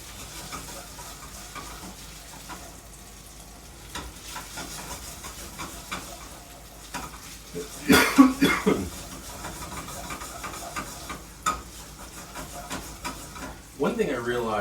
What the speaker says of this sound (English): that extra fat that was in here to fry up my rice